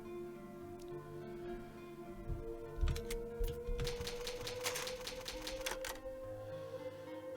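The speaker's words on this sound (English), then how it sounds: "It's an old typewriter. You can save your progress." Typewriter keys clacking in a rapid burst over background game music, an in-game save at an old typewriter using an ink ribbon in Resident Evil Remake; no voices.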